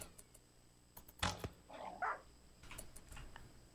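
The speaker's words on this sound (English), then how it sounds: "The dogs are hunting me." Dogs in the video game RimWorld bark and yelp in short, faint bursts, a couple of louder barks in the middle over a quiet game background, no voices.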